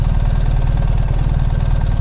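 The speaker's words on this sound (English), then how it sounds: "right, all the engine braking" Engine of a BMW adventure motorcycle braking on its own compression as the rider comes off the throttle, a steady, loud, low rumbling drone with even pulsing and no speech.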